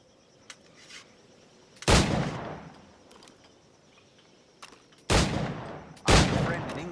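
Three loud firearm gunshots ring out in the Assassin's Creed IV Black Flag video game, with a faint shot early on. The three main blasts land at about 2, 5 and 6 seconds, each followed by a decaying tail.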